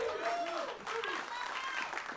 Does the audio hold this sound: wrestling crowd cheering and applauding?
yes